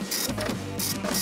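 A printer resuming operation, its whirring mechanical drive running steadily with rhythmic clicking and brief higher-pitched bursts of paper feed, fairly close and without voices.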